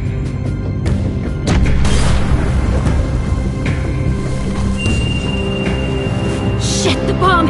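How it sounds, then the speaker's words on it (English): A bomb goes off in The Walking Dead video game, a loud booming blast with crashing debris that rolls on for several seconds, then a rising high whine and rattling clatter toward the end. "Shit, the bomb!"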